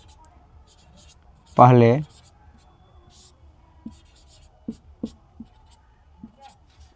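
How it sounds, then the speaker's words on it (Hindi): Pen writing a percentage formula on paper, soft scratchy strokes arriving in short bursts, with a brief spoken word near the start. "इसको हम लोग यहाँ पर लिखते हैं फॉर्मूला"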